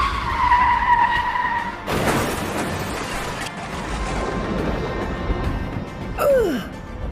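A car brakes suddenly and skids in a Free Fire game story scene, a loud sustained tire screech and rushing skid noise lasting several seconds, with a rising squeal near the end.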